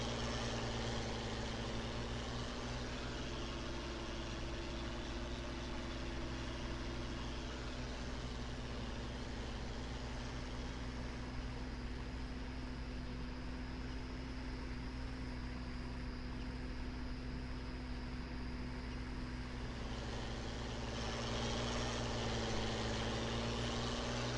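A John Deere tractor engine idling and running in a farming video game, a steady low droning hum with a constant tonal whine, unchanging and sustained for the whole stretch.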